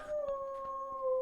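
Aggie the dog lets out one long, sustained howl with a steady pitch, fairly close and alone, with no talking.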